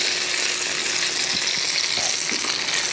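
Fried apple pies sizzle in a small skillet, giving a steady, close crackling hiss with occasional sharper pops and no talking over it.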